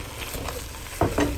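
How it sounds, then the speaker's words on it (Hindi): Minced meat (keema) fries in masala in a pan with a steady, close sizzle, joined near the end by a couple of soft stirring knocks. "जब मसाला भुन जाए तो आप इसमें कीमा शामिल कर दें और इसे भून लें अच्छी तरह से"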